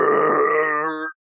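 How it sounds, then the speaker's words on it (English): A person voices a long, tonal belch lasting about a second during a tabletop Dungeons & Dragons game; it is loud, close and heard alone before it cuts off. "That was a good burp."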